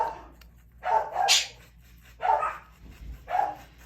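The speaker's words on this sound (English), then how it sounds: "they're leaving, the boys are leaving, we have company, the boys have company, so the dogs go crazy" Several dogs bark excitedly at arriving company, three or four loud close barks in quick succession with a yelping edge, no talking.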